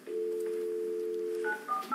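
A telephone gives a sustained dial tone, then quick touch-tone keypresses follow as a number is dialed to reach Mr. Victor, close and clear with no voices.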